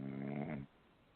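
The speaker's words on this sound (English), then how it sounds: "I can hear him snoring, Theresa." A sleeping man lets out a single low, rumbling snore that cuts off abruptly, faint and close, followed by quiet.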